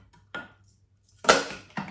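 A Thermomix mixing bowl filled high with water and a drop of washing-up liquid is set onto its base, giving a couple of short hard clunks of plastic and metal, close and fairly loud, with quiet pauses between.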